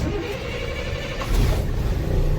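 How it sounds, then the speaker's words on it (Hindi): Truck engine starting, a low rumbling crank that catches and settles into a louder steady idle partway through, close and fairly loud. "ट्रक को स्टार्ट करते हैं।"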